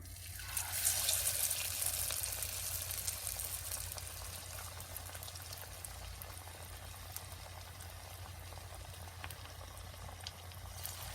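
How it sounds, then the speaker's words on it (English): Masala vada batter dropped into hot oil gives a loud bubbling burst that settles into a steady, dense sizzle and crackle, close and continuous with no talking. "Then we're going to put it into oil which is hot."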